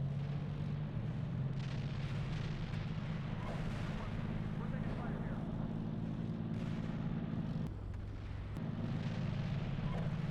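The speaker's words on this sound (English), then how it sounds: "Indirect fire on the woods, which is left." Artillery indirect fire rains on woods in the tank simulator Steel Beasts Pro PE, a continuous dense rumble of explosions with heavy low-end roar and crackling bursts, with a brief dip near the end.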